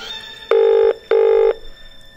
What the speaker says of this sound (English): There, it's ringing now.